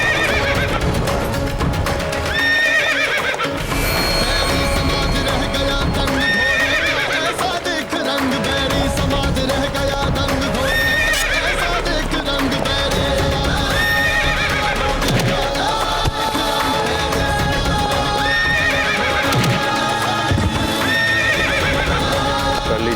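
A horse in a dramatic battle-era scene whinnies repeatedly while hooves clop and stamp, loud and continuous over a dense layer of background music and effects, with no one speaking.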